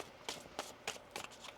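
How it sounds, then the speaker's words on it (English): Tarot cards being shuffled by hand, a few quick papery riffles and flicks in short bursts, close and fairly quiet with no talking. "One more shuffle."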